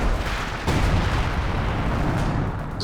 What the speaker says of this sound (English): Just chipping away at the mortar pit with that first barrage.